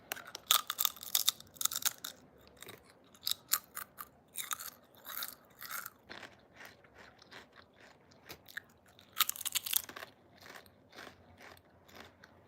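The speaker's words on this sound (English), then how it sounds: "Crunch ASMR" Potato chips being chewed close up, crisp crackling crunches arriving in uneven bursts with brief pauses between bites, loud and dry, with no talking.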